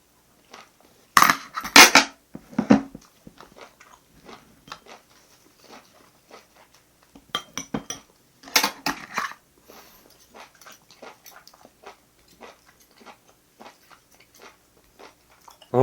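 Eating with cutlery during a mukbang: metal utensils clink against dishes in sharp bursts, followed by scattered crunchy bites and soft chewing, close up and intermittent, with quiet gaps between.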